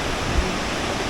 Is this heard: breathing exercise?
no